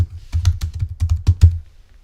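Rapid irregular clatter of keys being typed on a computer keyboard during setup of a Raspberry Pi, loud and close, about a dozen quick strokes before trailing off into quiet.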